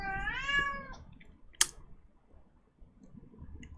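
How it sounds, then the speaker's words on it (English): A house cat gives one drawn-out, wavering meow close to the microphone, followed by a sharp single click and a few faint ticks in a quiet room. "sorry, my cat's very excited"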